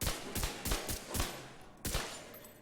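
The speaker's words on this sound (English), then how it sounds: "I want to shoot at this target." Pistol shots fired at a target in the Division 2 video game: about six sharp, loud reports in an uneven quick sequence, each followed by a short decay, with no talking.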